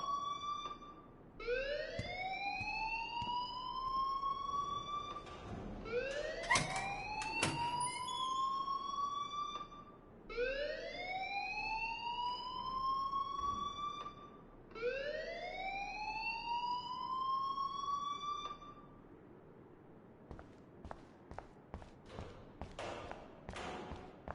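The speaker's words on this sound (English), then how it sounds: "please turn off that alarm since that's your job" A rising-and-falling electronic alarm siren blares in the Life is Strange video game, sweeping up repeatedly in loud, close cycles for about twenty seconds before cutting out into scattered clicks and knocks.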